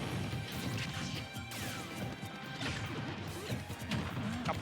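R.O.B.'s up smash in a Super Smash Bros R.O.B. mirror match: crashing hits and swishing impacts over a busy wash of game noise, laser zaps and crowd ambience, with no voices.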